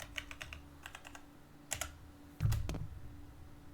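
Bursts of typing on a computer keyboard, quick clustered key clicks in short runs with pauses between them, ending in a heavier thump of keys, close and fairly quiet with no talking.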